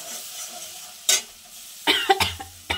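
A pan of small-fish curry sizzles softly while a spoon scrapes and stirs it in a few sharp bursts, with quiet gaps between the strokes and no talking.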